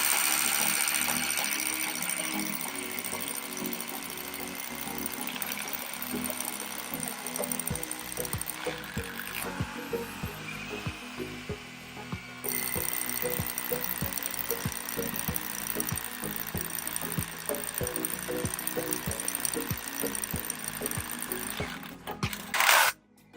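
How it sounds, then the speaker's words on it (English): A power drill grinds and rattles against a stuck 10 mm steel rebar driven into the ground at an off-grid tiny house build in France, a long, rough mechanical drone with stuttering, ratcheting bursts. "I hammered a piece of rebar in, like 10 mil rebar, couldn't get it out anymore. Jesus, now I'm just drilling"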